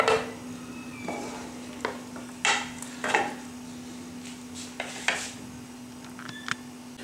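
Knife taps and scrapes on a plate as boiled chicken meat is cut into small pieces, sporadic sharp clicks spaced a second or so apart over a low steady hum.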